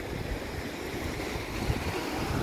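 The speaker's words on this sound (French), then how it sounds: "Tu vois, il y a la rivière en dessous." Continuous broadband rushing water from a river below a small spot, steady and fairly close, with no voices over it.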